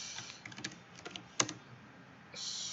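Keystrokes on a computer keyboard tap out in short, irregular bursts of light clicks with one sharper, louder strike near the middle, close and clear with no talking.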